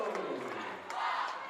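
A volleyball crowd in a high school gym cheering and shouting continuously, a dense wash of voices rising and swelling throughout.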